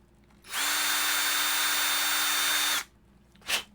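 Power drill running at steady high speed for about two seconds, loud and close with a constant whine, then stopping, followed by one short burst near the end.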